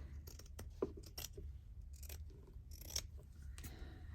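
Scissors cut through fabric in short, crisp snips, several close cuts spaced irregularly over a quiet background.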